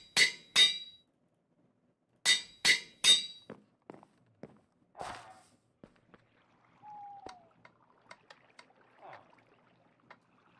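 Hammering in the Minecraft modpack All The Mods 10: groups of sharp metallic strikes, two at the start and three more a little later, followed by softer scattered taps and clinks, with no talking.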